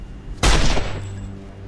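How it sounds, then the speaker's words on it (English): A needle gun fires in the Marvel Avengers Alliance video game, opening with a single sharp, loud burst that fades into a short, rumbling tail. "Needle gun on a burner."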